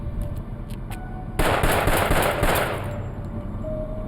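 A burst of gunfire in a shooting reenactment, several sharp rapid shots cracking loudly together for about a second and a half, then fading into ringing ambience with a few faint clicks before it.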